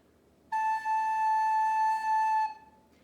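A single sustained recorder note A held steady for about two seconds, clear and pure with bright overtones, played alone in a quiet room during a beginner lesson.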